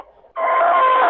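A proud rooster among his hens crows loudly and close, a single sustained nasal call following a brief quieter cluck.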